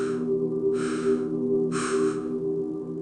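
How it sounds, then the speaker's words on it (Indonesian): A horror-story sound effect of choking, strained breathing: three harsh rasping gasps spaced about a second apart over a low steady hum. "Suara kayak orang lagi sesak napas atau tercekik lehernya"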